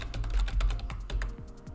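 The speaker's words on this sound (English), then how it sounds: "Let's say that we're typing" A computer keyboard typing a search query into Etsy, with a quick, uneven run of close, crisp keystrokes and no voices.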